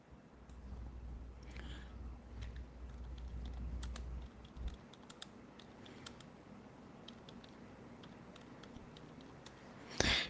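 Typing on a computer keyboard, a steady run of light clicking keystrokes up close over a low background hum, with a brief louder rustle near the end.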